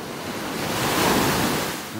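Ocean surf rolls onto a beach in North Naples, Florida, a steady broadband wash that swells toward the middle and eases off, with light wind noise and no voices.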